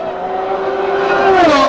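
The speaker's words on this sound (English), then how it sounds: "you can hear that Senna has really got a problem. Here his engine flatting. It's not running clear." Ayrton Senna's Formula 1 car at the 1991 Brazilian Grand Prix with an engine not running cleanly, a loud, close, sustained whine that wavers before swooping downward as the car passes.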